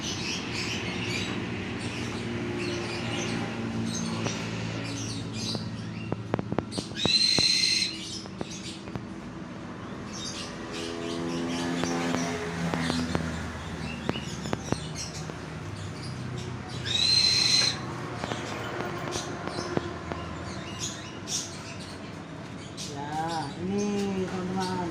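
A male sugar glider, a small gliding possum, gives short chirping and squeaking calls in bursts, with two brighter chatters standing out, under steady indoor background noise.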